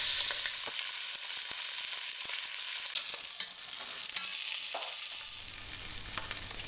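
Slab bacon sizzles and crackles in a Dutch oven over medium heat, a steady close frying hiss with scattered pops and a brief stir.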